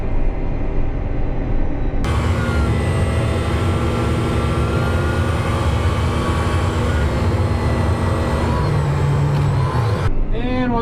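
Tractor towing a grain cart across a harvested field back toward the combine, a loud steady engine drone with a sustained mechanical hum that rises when the cab noise opens up, close and continuous.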